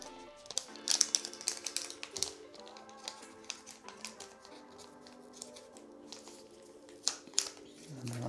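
Crinkly tapping and rustling of packaging as a Motorola Edge 60 Fusion phone is unwrapped, with scattered close clicks and crackles over faint background music.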